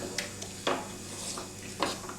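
Curd being stirred into fried onion and tomato in a pan, with a few sharp scrapes and knocks of a spoon against metal over a low steady background, close by.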